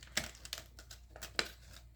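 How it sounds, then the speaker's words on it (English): Paper pushed through a hole punch with scissors, close crinkling rustles and a few sharp clicking snaps spread over two seconds, quiet and without voices. "So I'm going to use scissors to push it through."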